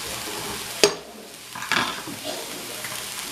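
Vegetables for fried rice sizzle steadily in a pan. Two sharp scraping stir bursts stand out over the continuous frying hiss, with no talking.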